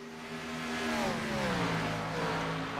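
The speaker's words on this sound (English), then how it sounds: "But cars back on the racetrack here in Auto Club once again." Several NASCAR stock cars in the iRacing sim lap Auto Club Speedway at Fontana, a steady droning engine roar with rising and falling pitch sweeps as cars pass, continuous and fairly loud with no voices.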